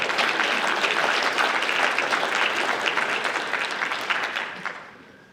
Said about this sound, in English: Let's clap it up for the Vikings